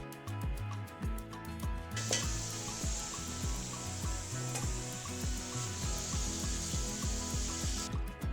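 Chicken for nihari roasts in a pan with garam masala and broken cardamom, a bright continuous sizzle that swells in after a short lead-in and holds steady, with busy stirring underneath.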